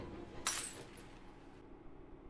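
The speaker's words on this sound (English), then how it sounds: "I heard the shattering of glass." Glass shattering in the Hakuoki: Kyoto Winds game: one brief, bright crash with a short tinkling tail, fairly faint over a low background hum.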